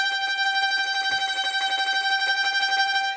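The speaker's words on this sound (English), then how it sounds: "And that last note is a tremolo." A sustained tremolo on the note G, played with a rapid wrist wave as the last note of the song, a rippling held tone steady in level for about three seconds before it cuts off.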